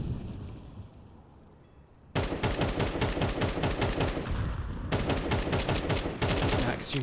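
Rapid automatic rifle fire from a Counter-Strike match on Overpass, shots punching through a wall at connector, comes in loud sustained bursts after a quieter opening, with a short break and then more firing.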